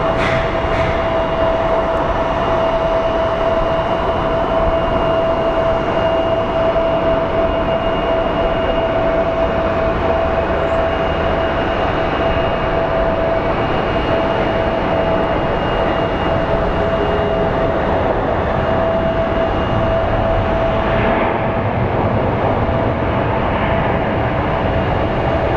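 Airliner bound for LAX passing at Phoenix Sky Harbor airport, a loud, steady jet engine roar with a sustained whine, holding strong through the whole stretch with no voices.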